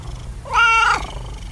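A pet cat lets out a single clear, drawn-out meow, close and fairly loud against a quiet room.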